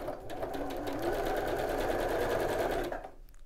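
A sewing machine stitches in a steady, fast whirring run for about three seconds, close and fairly loud, then stops abruptly.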